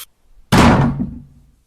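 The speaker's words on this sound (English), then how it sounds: "A tremendous gust of wind blew the door shut with window-rattling force" Door blown shut by a strong gust of wind, a single loud slam after a brief quiet pause, its heavy thud decaying over about a second with no other sound.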